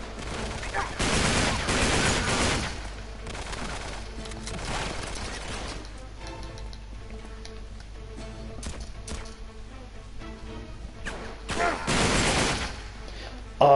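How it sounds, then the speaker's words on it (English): Bursts of rapid gunfire and fusillades from the video game Uncharted 3: Drake's Deception, loud and close, with heavy volleys early and again near the end and sparser shots and mechanical clatter in between. "the recoil as well has been updated, and it is insane. It is actually like being at a shooting range with a real weapon."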